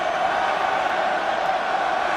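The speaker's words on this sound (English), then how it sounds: "Crowds. What an atmosphere." A packed rugby stadium crowd at an Ireland versus New Zealand All Blacks test match roars in a dense, steady, unbroken wash of noise from start to end.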